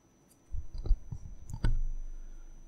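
A few sharp computer mouse clicks in a quiet room, spaced out and close, followed by a low hum.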